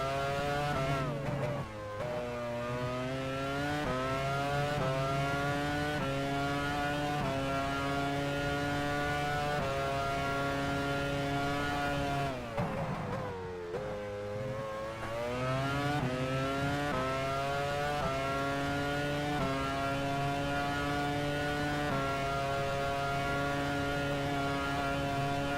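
A Formula 1 car engine in F1 Challenge 99-02 at the 2001 Austrian Grand Prix holds a loud, steady high-revving tone, with gear shifts causing brief drops before it climbs again. No one speaks.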